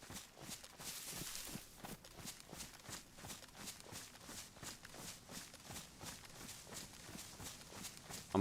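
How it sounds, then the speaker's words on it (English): Footsteps crunch in a steady rapid rhythm through the DayZ video game, repeated treads moving continuously at moderate volume with no talk over them. "I swear I keep hearing footsteps."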